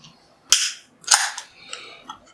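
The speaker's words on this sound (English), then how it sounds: "let's crack open the beer and see what we get" A beer can is cracked open, a sharp metallic snap followed by a second hissing pop and a short fizz, close and crisp with quiet gaps between.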